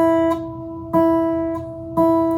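Open high E string of a guitar plucked with the thumb, three times in quick succession, each note ringing with clear sustained overtones before the next pluck.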